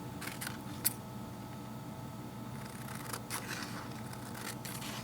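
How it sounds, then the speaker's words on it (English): Scissors snip through wafer paper flower cutouts with sharp, crisp clicks and scraping cuts over a steady low background hum. "you can cut all your flowers all at once"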